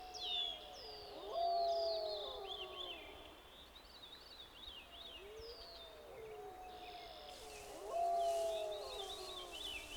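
Faint, far-off wolves howl in a wild northern forest at dawn, rising and falling in long wavering calls that overlap, with a second chorus swelling near the end.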